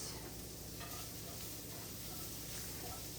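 Leftover cooked meat is warmed and seasoned in a pan, giving a continuous, even sizzle with faint stirring, close and moderately quiet.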